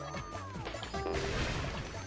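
Ceiling blocks broken in Super Mario Bros. Wonder: a quick run of loud crunching smashes and thwacks in a steady rhythm, layered with cheerful game music tones and brief sliding chimes, close and busy throughout.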